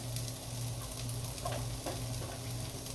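Salted onions and peppers sizzle steadily in a pan at close range, a continuous hiss broken by faint scraping ticks from stirring.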